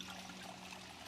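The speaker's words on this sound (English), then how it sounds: "Let's fill the water skin." Water trickles into a water skin in the video game Project Zomboid, a soft, faint, continuous pouring dribble with no voices.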